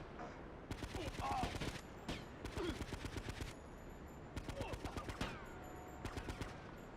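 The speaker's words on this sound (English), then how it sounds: "Oh god, they've got automatic weapons." Automatic weapon fire in GTA Liberty City Stories, several rapid bursts of close, loud shots separated by short pauses, with brief game sounds in between.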